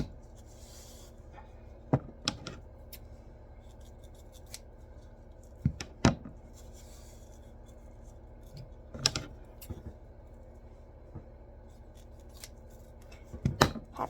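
Scissors cutting ribbon from a spool for an Easter wreath, with sharp, separate snips spaced a few seconds apart and a quick cluster near the end, close and fairly quiet.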